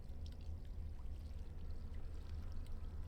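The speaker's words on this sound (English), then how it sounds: "Fill the jug with water" Water poured from an earthen clay jug in a video game, a steady low gurgling stream running on for a few seconds, close and fairly quiet.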